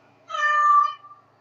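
One clear, drawn-out cat meow from the Dragon Age video game, close and fairly loud against near silence, lasting under a second.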